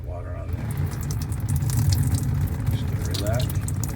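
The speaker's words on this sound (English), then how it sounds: "Okay, so now we're just gonna pour that hot water on there." Hot water pours steadily onto a self-healing car paint protection film, a continuous wash of splashing and gushing with a low rumble beneath.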